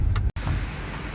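Steady outdoor rain hisses in a broad, continuous wash during a long rainy day of dumpster diving, with a brief dropout partway through and no voices.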